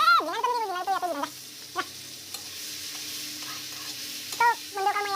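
An egg fries in hot oil with a faint, steady sizzle and a few soft stirring knocks. High, wavering, meow-like cries come in bursts at the start and end.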